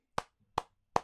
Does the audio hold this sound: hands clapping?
yes